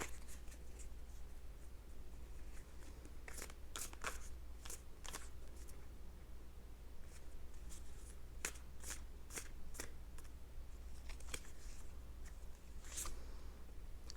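Tarot cards shuffled by hand in repeated bursts, crisp riffling flutters and slaps coming in irregular clusters over a quiet hum, close and clear, with no one talking.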